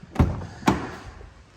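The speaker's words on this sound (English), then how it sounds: "I've now got the key, so I will just open the door" Two sharp mechanical clunks about half a second apart from a BMW 420i M Sport door being unlocked with the key, close and fairly loud, each with a short fading tail, with no talking.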